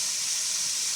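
Lamb shoulder browns in a Dutch oven for stew, giving a steady, loud, even sizzle that holds without a break.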